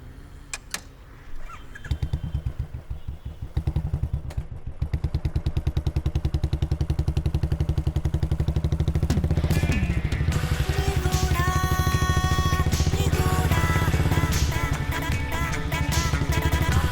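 A motorcycle engine revs up and pulls away, its steady rumble building and staying loud and close after a brief start, with some clatter at the outset.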